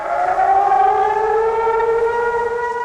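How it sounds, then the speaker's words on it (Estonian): Civil defense warning sirens sounding during a scheduled public test in Lasnamäe, Tallinn: a loud, steady wail of layered tones holding nearly level, with echo from the cliffs, no voices. "Täna on siis taas see päev, kus testitakse ohusireene täpselt kell 3."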